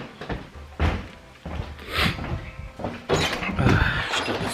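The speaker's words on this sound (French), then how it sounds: "Chaque fois cette porte à claque avec les courants d'air." A house door slams shut in a draught, giving a few sharp knocks and bangs, with thuds and clatter scattered through a busy home.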